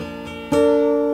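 A single plucked guitar note on the first string at the third fret above a capo rings out clearly after a faint lead-in, sustaining alone.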